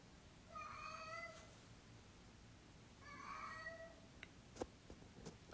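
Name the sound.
cat meowing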